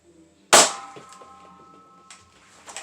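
A Dart Zone Balistix Ops ball blaster fires one sharp, loud crack with a brief metallic ring, followed by a couple of softer clicks and handling noises at close range.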